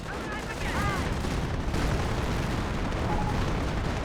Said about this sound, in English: I think he's not liking the creep barrages into his base, or just regular artillery barrages into his base